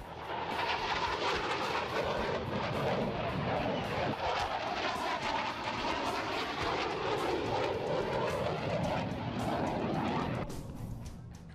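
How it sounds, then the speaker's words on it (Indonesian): A KF-21 fighter jet flies an air show demonstration in South Korea, its engine roaring loud and steady for several seconds before easing off. Crowd noise and other sounds run underneath. "termasuk demonstrasi jet tempur terbaru buatan dalam negeri KF-21"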